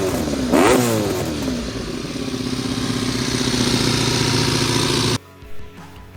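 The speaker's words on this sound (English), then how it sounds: "One of the most intoxicating sounds that I believe exist on this planet is a V4." A Honda RC30 V4 motorcycle engine revs up sharply, then holds a loud, steady, throaty roar close by for several seconds before cutting off abruptly, leaving a brief quiet tail.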